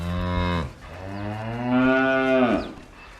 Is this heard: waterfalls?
no